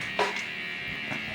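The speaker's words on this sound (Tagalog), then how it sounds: "Blower pa yan." A hair blower runs in a barbershop, giving a faint, steady whirring hum with a couple of brief swells. Nothing else is heard.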